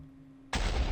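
A single TNT block in Minecraft detonates with a sudden loud broadband blast halfway through, after near silence, and the roar carries to the end.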